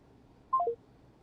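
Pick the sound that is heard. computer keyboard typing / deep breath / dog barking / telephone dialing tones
telephone dialing tones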